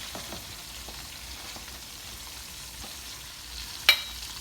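Soft, steady sizzle of tomatoes frying and softening in a pan for ackee and saltfish, a low continuous crackle with one brief sharp clink near the end.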